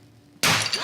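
A frozen brittle ball bursts apart on a single hard hit, a sudden loud shattering crash after a quiet moment, trailing off in scattered fragments.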